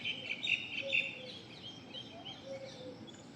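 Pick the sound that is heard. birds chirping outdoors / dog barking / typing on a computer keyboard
birds chirping outdoors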